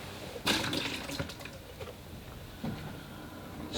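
Fresh water pours and splashes into a large plastic collapsible water bucket in short bursts, with one strong splash early on and a smaller one near the end. It sounds close and moderately quiet.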